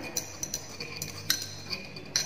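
Turbid water sample being stirred in laboratory glassware, with a rod clinking lightly against the glass several times in an irregular rhythm, close and fairly faint.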